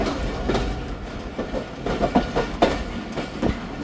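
The Khyber Mail passenger train runs on rails with steady rumbling and rhythmic clickety-clack wheel beats, close and continuous, with faint squeals.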